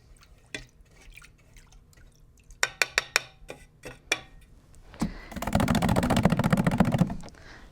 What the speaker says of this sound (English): we're going to go ahead and wash our brush